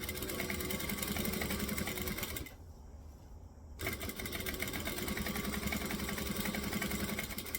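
A sewing machine stitches a Vixen bag in a fast, steady, whirring run, stops for about a second, then resumes its even high-speed rattle close by with no talking.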